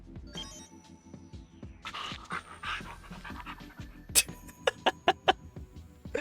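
A dog in the Gantz video game pants steadily in quick rhythmic breaths. Several sharper, brighter game sounds break in near the end.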